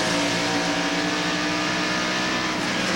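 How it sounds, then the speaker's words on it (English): A NASCAR race car on the 1993 Watkins Glen road course, engine droning loud and steady as the driver works the throttle with small rises and dips in revs, continuous for the whole stretch with no talk. "As we watch Tommy Kendall playing with the throttle."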